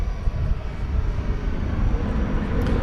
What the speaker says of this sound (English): Another American Airlines plane going out there